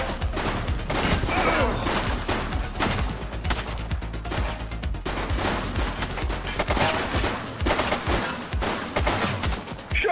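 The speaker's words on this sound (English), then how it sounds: "Shots fired!" Gunfire in The Precinct police game on a street patrol, loud rapid volleys of shots crackling almost continuously with brief gaps, close and dense throughout.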